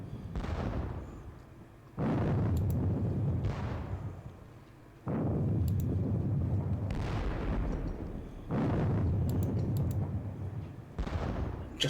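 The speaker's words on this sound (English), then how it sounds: "But bit of 3-pounder fire is 3-pounder fire." Cannon fire from 3-pounder guns in a Napoleonic wargame, a series of heavy booms, about five, each a sharp blast with a long rumbling decay, spaced a few seconds apart over continuous low battle noise.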